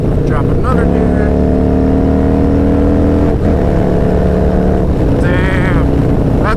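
A Harley-Davidson Milwaukee 8 fitted with a stage 2 cam downshifts and accelerates, its loud engine roaring steadily with pitch climbs and brief dips between gears, under heavy wind noise.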